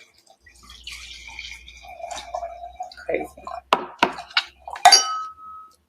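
Liquid pours and drips into small plastic cups with light clinks and splashes, growing louder and sharper toward the end, while a person speaks briefly.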